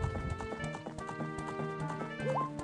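Horse hooves clip-clop in a steady, quick gallop in Zelda: Ocarina of Time, running across Hyrule Field over a dense bed of game music and ambience, with no talking.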